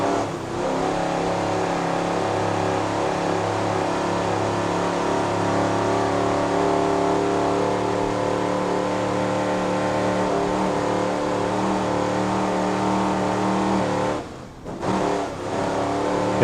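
A racing powerboat engine roars steadily at full throttle while rounding a corner, a loud sustained drone with a brief dip near the end, no voices.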